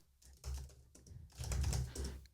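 Typing on a computer keyboard, quiet bursts of quick key clicks in uneven clusters, close but soft, with no voices.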